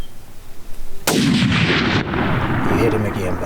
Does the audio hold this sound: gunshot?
yes